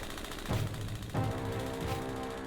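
Tank cannon fire in War Thunder from a Russian T-28 gives two sharp booming shots about half a second apart, with rumbling engine noise and a fainter third crack after.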